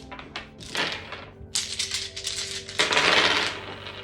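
Dice rolled and clattering across a hard surface, several quick rattling tumbles and knocks in close succession, loud and near, with no talking.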